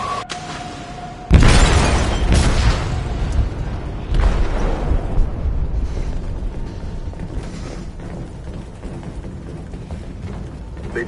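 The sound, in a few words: explosion on a ship in video game Detroit: Become Human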